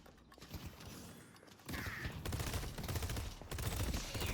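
Gunfire in the hero shooter Deadlock, with a continuous stream of rapid shots and game effects growing louder after a quieter opening, with no talk over it.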